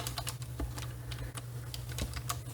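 Rapid clicking of computer keyboard keys while editing an Excel spreadsheet, a close, uneven run of sharp keystrokes over a low steady hum, with no talking.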